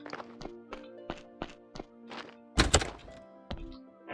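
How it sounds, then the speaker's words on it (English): In the video game Graveyard Keeper, a gate makes a series of wooden thunks and knocks, a slow irregular sequence of hits followed by one louder rattling bang and a few softer knocks. "What's that sound? Damn gate."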